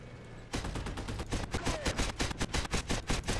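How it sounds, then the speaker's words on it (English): Glitched gunfire in a video game: a rapid, relentless stream of loud repeated shots, evenly pulsing like a machine gun for about three seconds after a brief quieter lead-in. "Oh, gun sounds bugged out."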